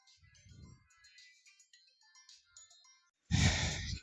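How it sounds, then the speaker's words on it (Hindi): Phone ringtone bursting in loud and close near the end of a quiet stretch, cutting off abruptly, during a Class 9 maths lesson at home. "सॉरी फोन आ गया था इसके लिए"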